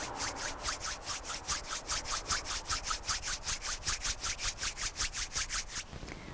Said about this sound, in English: Keeping your eyes closed, rub your palms together.